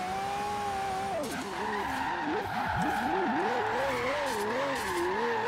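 A drift-tuned Lamborghini in Forza Horizon 3 spins its wheels on city streets, the engine droning and wavering in pitch as revs rise and fall, with tires squealing underneath, loud and continuous.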